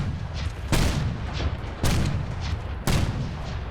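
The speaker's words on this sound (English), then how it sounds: "I hear the shooting" Gunfire in Fallout 4 sounds in three heavy, booming shots spaced about a second apart, each a sharp broadband blast with a short rumbling tail over a low background.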